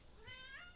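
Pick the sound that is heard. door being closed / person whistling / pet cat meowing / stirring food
pet cat meowing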